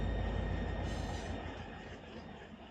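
A long freight train of about 1,000 feet grinds uphill in the Run 8 train simulator near La Mirada, a steady rumble of wheels and railcars with a faint squeal, slowly fading.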